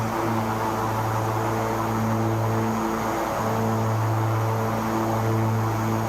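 Steady propeller drone of a general aviation aircraft in X-Plane 12, heard from outside the plane, a continuous loud engine hum with strong low harmonics that dips briefly near the middle before resuming.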